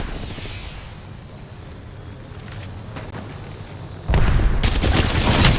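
Gunfire in a first-person shooter game, quiet at first and then bursting into loud, dense rapid shots in the final second and a half, with sharp repeated cracks over a steady low background.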